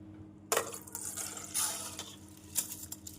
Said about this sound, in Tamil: தண்ணீரை வடித்து விடலாம்.